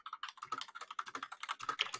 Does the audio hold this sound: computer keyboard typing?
yes